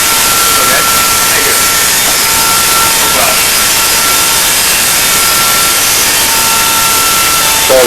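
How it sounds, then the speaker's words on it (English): Steady buffing wheel whine of red rouge polishing on the lower half of a 1949 Indian engine plate, a continuous loud broadband hiss with a faint tonal hum, constant throughout. "He's just polishing with red rouge on the lower half of that plate"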